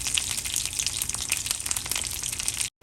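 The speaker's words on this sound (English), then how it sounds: "Let the curry leaves splutter a little bit." Curry leaves and mustard seeds splutter in hot oil in a pan, a dense, loud, continuous crackling hiss lasting a few seconds before cutting off abruptly.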